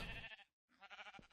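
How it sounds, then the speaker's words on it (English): Two short bleats from Minecraft sheep standing on a roof in Feed the Beast, split by a brief gap, fairly close and clear with no talk over them. "Oh, there's multiple roof sheep."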